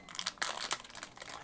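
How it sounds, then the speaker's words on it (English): A plastic blind bag containing a small toy figure being torn open by hand, giving a close, crinkly rip with a few sharp tearing bursts over about a second and a half. "I'm just going to grab some scissors, give them a little snip, and we'll rip them open here."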